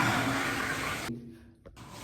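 A toilet flush rushes loudly for about a second, then cuts off into quiet with a faint trickle of water and a small knock.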